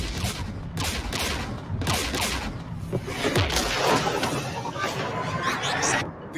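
Sustained gunfire and battle noise from the video game Mass Effect 3, with Geth forces near a jamming tower and anti-aircraft guns, repeated bursts of shots over several seconds in a dense combat mix.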